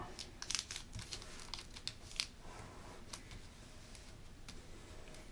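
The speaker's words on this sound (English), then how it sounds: "this edge is going to fold over to meet the middle and crease it" Paper being folded and creased for an origami crane, quiet crinkles and a few sharp crisp taps and rustles close by, faint against a low steady background.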